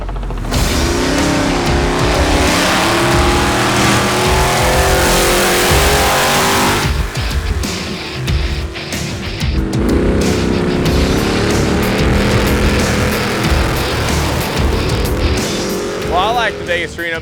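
The number 19 Terrible Herbst Motorsports trophy truck racing in the Vegas to Reno off-road race, a loud, continuous, close engine roar with rising and falling revs, while someone talks over it throughout.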